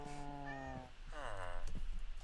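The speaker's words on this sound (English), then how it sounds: "we can get a cat" A Minecraft cat gives a couple of clear, close tonal meows, the second rising and wavering, over a low steady game background.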